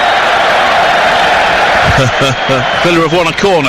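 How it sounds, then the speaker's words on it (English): Football crowd at Aston Villa v Sheffield United roaring steadily throughout in a big stadium, a continuous wash of cheering under someone commentator talking over it. "that's why the crowd are cheering"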